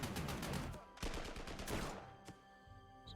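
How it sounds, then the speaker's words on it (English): Artillery fires in the strategy war game Panzer Corps 2, with a rapid cluster of sharp booming blasts that are loud at first, then a couple of isolated reports trailing off as the barrage fades. "the artillery is going to shoot here"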